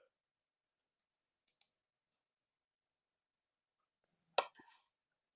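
Two quick, quiet computer mouse clicks come close together in a silent room while an online bridge game is hosted, followed a few seconds later by a sharper, louder click-like burst.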